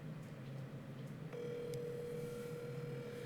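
A telephone call being dialed: a steady low hum with faint tones, then a sustained dial-type tone starting partway through and holding to the end, quiet and alone without voices.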